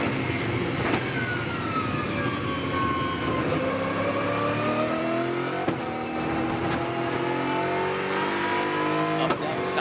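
Onboard engine of a GT World Challenge America race car at Virginia International Raceway, loud and steady, its pitch falling through a long downhill run and then climbing again, with a few brief clicks and gear-shift pops.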